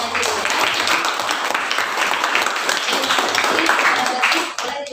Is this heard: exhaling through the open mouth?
no